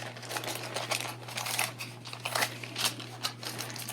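Scissors cutting a long paper sticker box for a planner, a series of close, crisp snips and paper rustles over a low steady hum.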